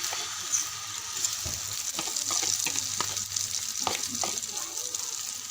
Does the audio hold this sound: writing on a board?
no